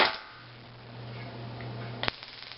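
An imitation M26/X26 taser-style stun gun fires its darts from about ten feet away, one sharp crack standing out over a low steady hum in a quiet room.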